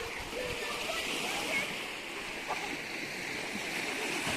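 Water at a beach washes as a steady, moderate hiss of surf with small splashes rising now and then, and a muffled voice sits faintly in the background.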